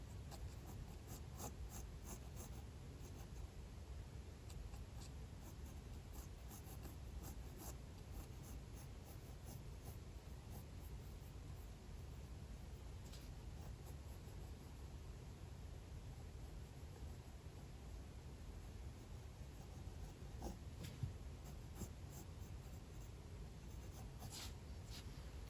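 Pencil scratches and glides across paper in a steady, soft, close-up drawing session, a continuous quiet rasp with faint strokes and no talking.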